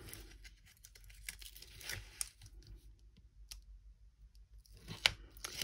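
Backing strip being peeled off double-sided tape on a handmade book-shaped paper calendar, a quiet tearing, crinkling rasp in short bursts with a sharper snap near the end, no voices.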